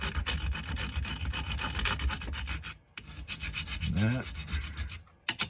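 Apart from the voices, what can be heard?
sanding a distressed AR rifle finish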